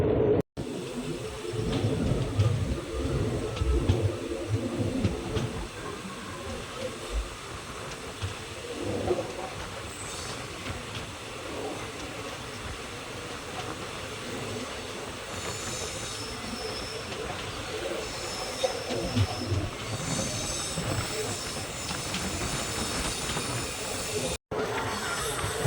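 Virudhunagar-Karaikudi DEMU passenger train slowly climbing on the Aruppukottai line: steady rumble and rattle of wheels and carriages with hissing and faint squeals, close and continuous throughout.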